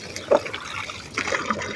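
Water swishing and trickling as turmeric is rinsed, a steady wet splashing with small gurgles, close and moderately loud, no voices.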